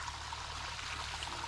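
A newly built backyard garden stream runs with a steady, gentle burble and trickle of flowing water, continuous and fairly quiet.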